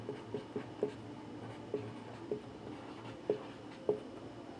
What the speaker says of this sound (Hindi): यहाँ पे हम लिख भी दे रहे हैं